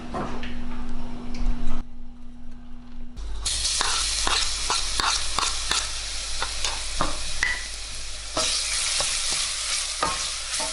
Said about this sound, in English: you want that garlic to cook for like 10 or 15 seconds